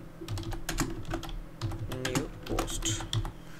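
Keys clatter on a computer keyboard at a desk in steady bursts of close, crisp clicks, with a few short pauses between runs and no voices.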